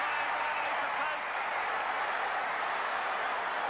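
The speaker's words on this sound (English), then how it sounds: "The crowd in the MA Noble stand erupting at the moment." Rugby league crowd roaring in the MA Noble stand at a 1979 NSWRFL major semi-final between St George and Parramatta, a dense sustained cheer with scattered applause, loud and steady throughout.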